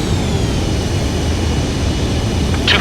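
A jet fighter in Ace Combat 7 on its landing approach, a steady loud roar of engine and rushing air that holds evenly throughout, with no voices.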